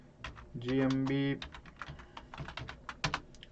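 Bursts of computer keyboard typing, clicks scattered in quick irregular runs, with a brief tonal computer sound partway through and a voice speaking softly in the clip.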